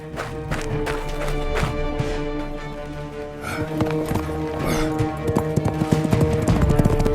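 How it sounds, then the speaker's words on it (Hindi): Horse hooves clip-clopping in a steady run, loud and close, mixed with music and other busy sounds. "घोड़ा हवा के रफ्तार से दौड़ने लगा।"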